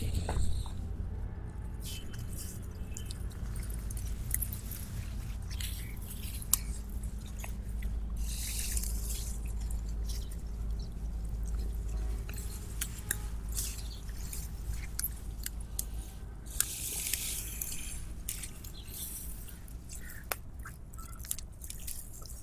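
White radishes are pulled by hand from soft, moist potting soil in a container, giving quiet squishy tearing and crumbling sounds with small drips and rustles, close and low with no talk.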